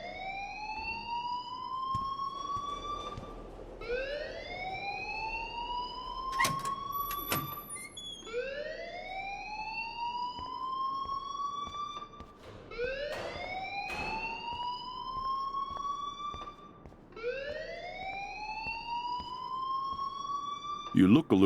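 A wailing alarm from the video game Life Is Strange rises and repeats in steady cycles, loud and continuous throughout, with occasional clicks and bumps beneath it.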